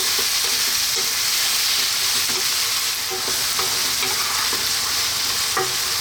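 Fresh chili drops into a goat curry over a lively heat and fries with a constant bright sizzle. Occasional stirring clinks and scrapes sound close by, and no one talks.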